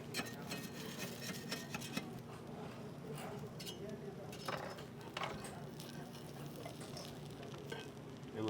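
A steak crust sizzles and fries in butter in a pan during a student cooking competition, a steady crackle with scraping and stirring noises on top.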